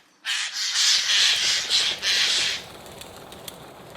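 A Eurasian jay in a forest gives a harsh, rasping alarm call in a few loud, close screeches run together over about two seconds, then fades into quiet woodland ambience.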